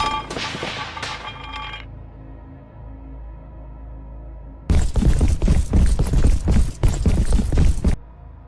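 Rushing footsteps echoing through corridors, heard as a rapid run of heavy, reverberant thuds lasting a few seconds, after a stretch of quieter mechanical humming and a brief tonal sound.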